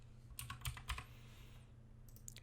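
Quick keystrokes on a computer keyboard come in a few short, soft clusters of clicks against a low steady hum, with a pause before a final couple of taps.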